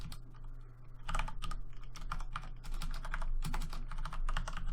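Rapid typing on a computer keyboard while entering a git push command, a steady run of close, crisp key clicks with brief pauses and no voices.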